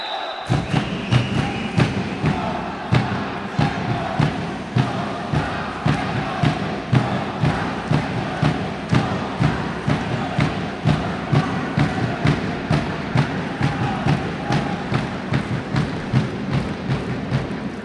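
Sennori basketball fans chant and sing in an arena during a home game against Olimpia Cagliari, the crowd roaring over a loud, steady beat of thumping drums or stamps that repeats for the whole stretch.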